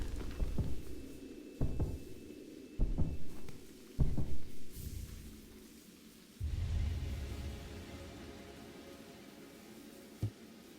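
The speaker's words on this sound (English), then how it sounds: "I wonder if somebody's ever made music with only heartbeats." Heartbeat sound effect from the video game Silksong: deep, booming low thumps at uneven intervals over a steady low hum, with no voices.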